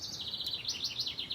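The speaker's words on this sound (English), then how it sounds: "You can hear all the birds." Small birds chirping in a summer home garden, a quick repeated series of high tweets at a moderate distance over a faint, steady outdoor background.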